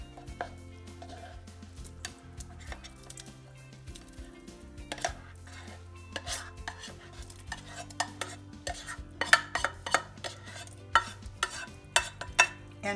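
Spoon stirring mushroom soup with barley in a pot, repeated scraping clinks against the pot over a low gentle simmer, close and irregular, with no talk.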